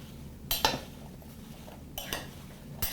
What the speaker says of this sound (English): And I'm going to give it a quick stir.